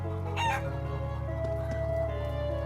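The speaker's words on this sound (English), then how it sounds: "Chicken!" A chicken in the video game Trails of Cold Steel 2 gives a sharp crowing squawk and then a run of clucks over a steady looping game music bed.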